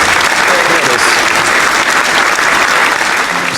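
An applause sound effect fired from a Stream Deck, a loud, dense burst of many hands clapping that runs steadily for several seconds close to the microphone.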